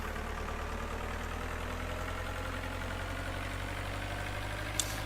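Tractor engine in Farming Simulator 2011, straining to haul a large tipper: a steady, low droning rumble that holds constant throughout, with a brief click near the end.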